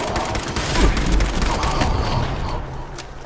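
Rapid gunfire in the video game Fallout 76, a dense fusillade of sharp cracks with a deep boom, loud and continuous in a busy combat mix.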